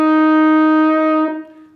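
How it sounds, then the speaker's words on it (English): A horn holds a single steady B flat note, a loud, rich, buzzing tone up close that sounds alone for over a second before tapering off. "See if you can match my bob sound or B flat note."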